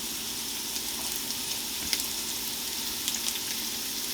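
Italian sausage frying in oil in a pan, a dense, even hiss of sizzling fat that runs steadily throughout with faint crackles and pops, close and unbroken by voices.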